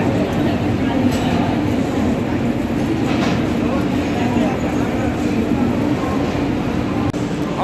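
A train halted at Jhansi (Lakshmibai) station, a steady loud rumble of rail and carriage noise with constant background hum and no distinct events, continuous throughout.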